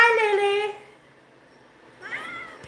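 A kitten, one of many cats in a home, gives two meows: a loud, drawn-out cry at the start and a shorter, softer one after a pause.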